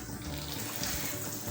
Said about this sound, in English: now we will add some water